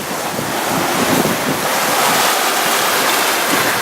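At sea aboard a sailboat with full mainsail and genoa in a 13 to 15 knot breeze, waves wash and surge continuously while strong wind roars across the microphone, loud and steady throughout.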